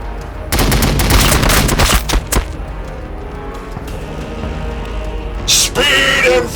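Rapid bursts of gunfire from the Warhammer 40,000 Battlesector strategy game, loud and dense for the first two seconds, then a quieter rumbling battle bed with a sharp burst near the end.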